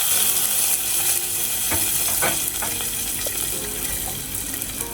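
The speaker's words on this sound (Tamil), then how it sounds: "இப்போ நம்ம கூட்டில் தாளிச்சு கொட்டிடலாம்." Hot tempering with curry leaves and chillies poured into snake gourd milk kootu, giving a steady loud sizzle with a few sharp crackles and spatters throughout, no talking.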